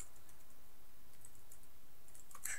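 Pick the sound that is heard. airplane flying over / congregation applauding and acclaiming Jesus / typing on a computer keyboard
typing on a computer keyboard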